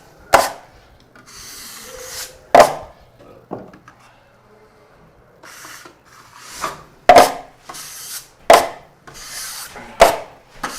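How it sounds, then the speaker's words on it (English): A knife blade scraped and wiped clean of mud, with several sharp rasping strokes in an uneven rhythm, some quieter rubbing between them, close and fairly loud. "I'm cleaning off my knife every single time like that"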